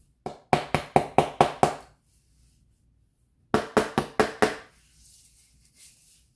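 Tapping on a chair frame to knock down high staples while re-covering it, two quick bursts of about six sharp, close strikes each with a pause between, followed by faint scraping.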